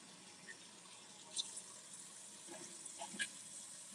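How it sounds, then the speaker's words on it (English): Tap water runs steadily at a kitchen sink while a cutting board is rinsed, a soft continuous hiss with a few faint clinks and splashes, close by and with no talking. "I'm just washing my cutting board off."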